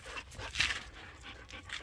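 A young female pup pants in quick, breathy bursts close by, the rhythm steady across the short moment with one louder huff partway through.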